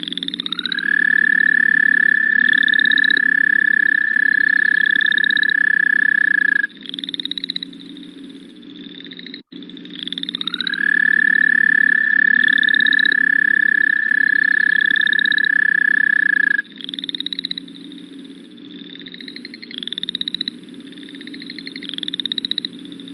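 A toad calls in long, sustained, steady trills that run several seconds each, repeated with short breaks between them, loud and close, with shorter chirping notes in the gaps.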